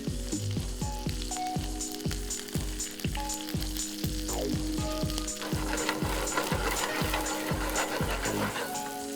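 Grated garlic fries in butter, giving a steady close sizzle with crackling pops and a rhythmic clicking pattern running throughout, with no talking.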